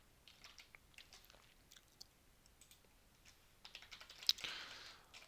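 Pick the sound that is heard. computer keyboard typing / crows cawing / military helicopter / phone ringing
computer keyboard typing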